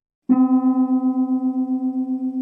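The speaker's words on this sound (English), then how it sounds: "So the sound of two notes a quarter tone apart is this." A single keyboard chord of two notes a quarter tone apart sounds and sustains, its tone pulsing with a steady, regular wavering beat as it slowly fades.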